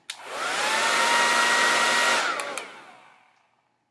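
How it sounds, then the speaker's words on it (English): A handheld hair dryer switches on with a click, blows loudly and steadily for about two seconds, then winds down and fades before a final click, with no talking over it. "So I'm going to turn on the hairdryer. You're going to hear how loud it is."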